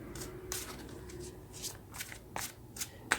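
Tarot cards are shuffled by hand in soft, quiet riffles and swishes that come in short, irregular bursts, with no talking.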